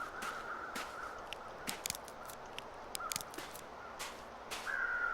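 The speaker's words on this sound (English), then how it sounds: "There's always crows where people have fallen" Crows caw faintly at a distance over a steady windy hiss in The Long Dark survival game, several short calls spread out, with a longer caw near the end.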